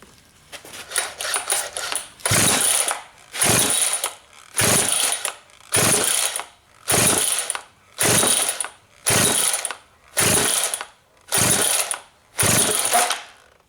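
A Husqvarna 395XP chainsaw that will not start is pull-started with the choke on, with a rapid series of ratcheting recoil pulls followed by about ten evenly spaced loud rasping pulls, close up and with no engine catching.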